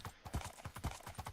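Horse hooves clip-clop quickly in Minecraft Bedrock Edition, a fast, even run of soft hoofbeats at low volume with no talking.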